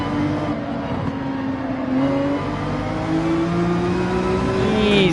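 Race car engine in Gran Turismo 7 accelerating through the Deep Forest circuit, a steady loud whine climbing in pitch and easing back, held continuously without interruption.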